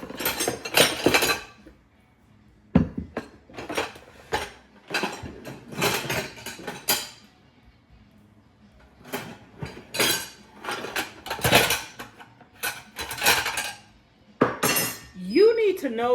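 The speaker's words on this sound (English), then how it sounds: "I might as well wash these dishes" Dishes and cutlery washed by hand in a kitchen, with bursts of clattering plates, clinking glass and knocking utensils separated by quiet pauses, and a voice briefly heard near the end.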